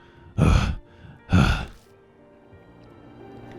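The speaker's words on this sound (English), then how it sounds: "The only sound that can be heard is our gasps for breath as we sit in the darkness." Two heavy, close gasps for breath from the horror video game Death Mark, taken in the darkness one after the other, then a faint low hum.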